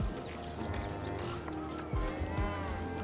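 A cow moos in the PS5 video game Katamari, a cartoonish game sound over busy music and effects, with a couple of short sounds near the end.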